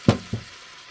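Potatoes frying in a pan, about ten minutes in and starting to soften, are stirred in two quick scraping strokes, followed by a low, quiet sizzle.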